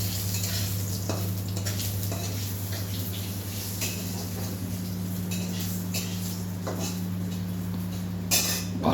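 Shukto vegetables sauté in a wok with bay leaf and panch phoron, giving a steady soft sizzle over a constant low kitchen hum, with occasional scrapes and clinks of a utensil stirring.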